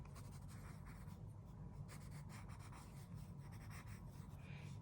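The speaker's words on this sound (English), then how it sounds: "I'm just going to quickly draw in the neck" Pencil sketching on paper, a soft continuous scratching and rubbing of graphite strokes, close and quiet with a steady rhythm.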